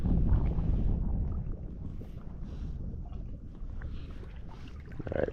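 Wind gusts buffet the microphone over open water at a wading spot along oyster points, a steady low rumbling roar with lapping water beneath it and no speech.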